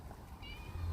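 Pet cat named Harley meowing once near a shed door, a short tonal cry rising over low rumbling background handling noise.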